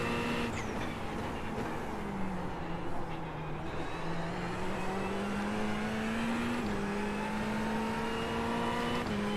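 A Ferrari GT3 race car engine at Sebring in an iRacing onboard view, loud and continuous, holding a steady high drone with slight pitch dips and rises as the car shifts and carries speed, no talk.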